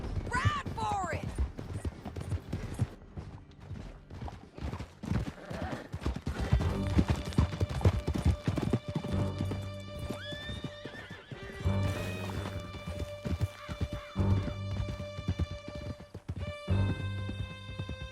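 Horses gallop and whinny in the Red Dead Redemption 2 video game during a canyon chase, with steady hoofbeats and neighs, gunfire and a game soundtrack beneath, and voices talking over parts.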